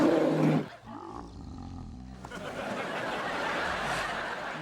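A bear lets out a loud, throaty roar that lasts well under a second, then cuts off, leaving a quieter, steady background with no distinct voices.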